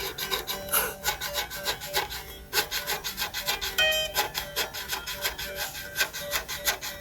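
Strings on a PRS Silver Sky SE guitar with rough, poorly finished frets make rhythmic scraping and grinding, a close, repeated rasping texture throughout.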